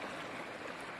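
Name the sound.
Narmada river flowing, babbling stream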